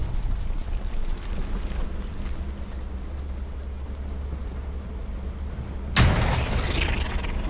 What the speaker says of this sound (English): P4 trying to get a cheeky shot on this Sherman through the hedge